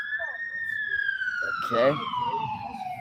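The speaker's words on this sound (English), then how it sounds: "So anytime an ambulance or anything comes through, I can hear it pretty loud" An ambulance siren passes on a major road with a steady, slowly falling wail that carries loud across the whole moment, while a person talks briefly over it.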